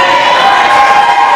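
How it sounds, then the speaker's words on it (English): A wrestling crowd cheers in a loud, steady wash of massed voices, sustained without pause. "Just listen to the crowd."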